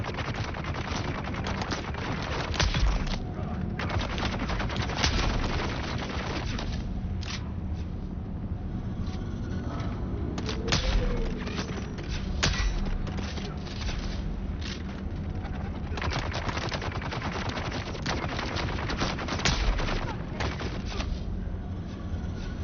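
Gunfire in Dune: Awakening, rapid sustained bursts of shots crackling throughout, fairly loud and continuous with occasional heavier thumps.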